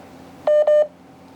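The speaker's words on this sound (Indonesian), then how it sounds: "Dengar sendiri kan HP-nya ngik-nguk" A mobile phone gives two steady electronic beeps in quick succession, clear and fairly loud over a faint background hum.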